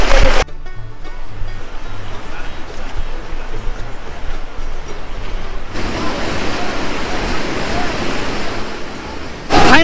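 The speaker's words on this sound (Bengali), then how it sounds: "একটা উঁচু ধাপ থেকে জলটা পড়ছে নিচের দিকে পড়ছে" Shivkhola Falls in the Darjeeling hills, water dropping from a high step: a steady, loud roaring rush of falling water heard close, swelling louder in the second half.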